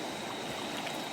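Cold, fairly fast river water in Uttarakhand rushes steadily past at a riverside campsite, making a dense, even hiss and gurgle with no pauses.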